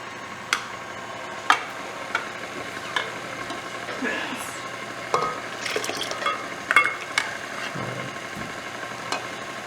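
Creme brulee custard being stirred so the eggs blend into the mixture, a steady scraping and swirling with scattered light clinks against the bowl, close and fairly quiet throughout.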